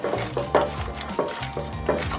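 Köfte meat mixture being kneaded by hand in a bowl, a series of soft wet slaps and thumps repeating in an uneven rhythm, close up.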